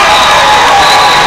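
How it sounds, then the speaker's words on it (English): Fans cheering at a nearby power soccer game, heard as a steady, loud wash of crowd noise with voices blended together and no distinct pauses. "You probably hear the fans behind us cheering"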